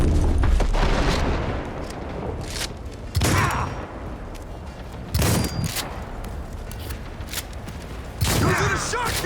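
Gunfire and explosive booms in a Cyberpunk 2077 Phantom Liberty firefight, several heavy shotgun blasts punching through a dense, continuous battle din, with someone shouting over the action.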